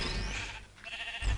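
Sheep bleating in Minecraft, a short quavering bleat heard fairly faintly, followed by a brief low thump, with no voices.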